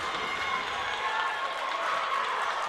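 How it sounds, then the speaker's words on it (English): Spectators in the stands at a women's basketball game roar and cheer in a steady, dense wash of crowd noise that fills the arena. "Crowd really into it."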